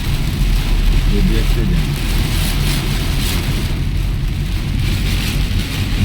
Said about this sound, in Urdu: یہ دیکھتے اتنی شدید بارش ہے نا کسی سے نظر ہی نہیں آ رہی